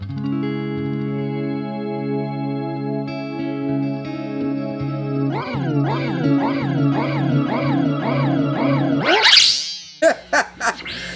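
Electric guitar run through an Electro-Harmonix delay pedal holds a sustained chord, then a rhythmic pulsing warble of repeating echoes swells and pitches upward before breaking into sharp stuttering bursts.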